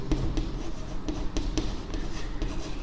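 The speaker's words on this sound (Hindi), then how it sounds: "तो मैं लिखता हूँ" Chalk or marker scraping on a board in short strokes for solving a polynomial problem, a rapid series of quiet scratches and taps close by with no talk.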